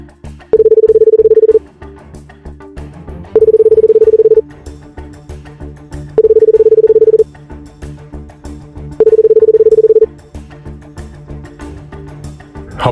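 A phone places a call to a friend, sounding as four long, steady ringback or dial tones with even gaps between them over faint low background music, no talking.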